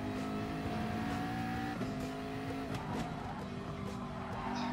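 A Gr.3 race car in GT Sport, its engine droning loudly and steadily, with pitch dropping at short, early upshifts, heard from close in-car range without talk.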